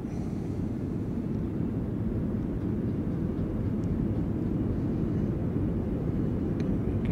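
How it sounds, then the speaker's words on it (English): Heavy, steady low roar of a FlyByWire A32NX airliner's reverse thrust after landing in Microsoft Flight Simulator, a dense rumbling wash holding loud and constant throughout with no talk. "And reverse thrust there."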